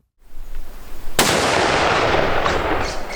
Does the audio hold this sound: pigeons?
no